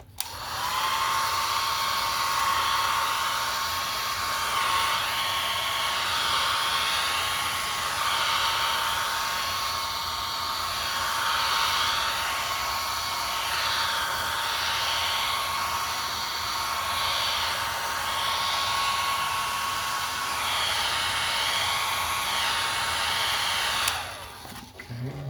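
A hair dryer drying an acrylic painting on canvas blows steadily for about 24 seconds with a loud, even whooshing hiss and a constant motor whine, then cuts off abruptly; no one speaks.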